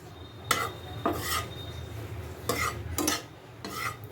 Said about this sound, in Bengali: দেখো দেখো সর্ষের তেলটা দিয়ে এরপর দুটো শুকনো লঙ্কা আমি দিয়ে